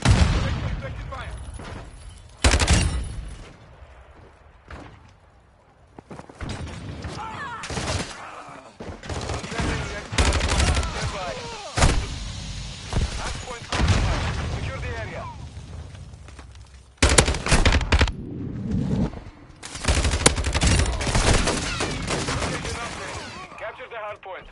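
A video game firefight with bursts of rapid gunfire and heavier blasts that come in waves, separated by quieter stretches with shouted voice callouts.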